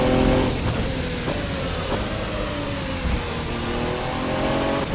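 A GT3 race car in rFactor 2 drives at speed, its engine roaring loud and close with shifting revs and brief gear-change dips under steady road and tyre noise.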